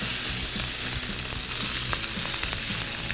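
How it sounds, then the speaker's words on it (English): Shrimp and scallops sear in a hot pan with a steady, close sizzle and crackle that keeps going without a break and carries no voices. "So we got our shrimp and scallops, gonna give them a little salt. And then in the pan."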